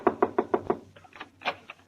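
Five quick, sharp knocks on a door as a radio sound effect, evenly spaced and close, followed by a softer, looser pair of raps.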